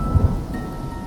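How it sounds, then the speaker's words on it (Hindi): Thunder rumbles low in a quick double thud over the steady wash of falling rain, which continues evenly for about a second with no voices. "आसमान में बादल छा गए, बारिश का मौसम बन गया।"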